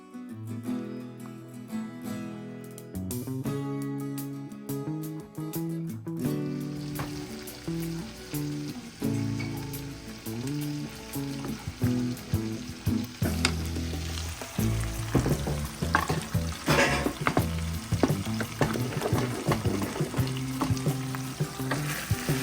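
Mashed potatoes with butter and heavy cream mixed in a pot on the stove over low heat: continuous close scraping and stirring with a soft sizzle, growing busier and louder in the second half.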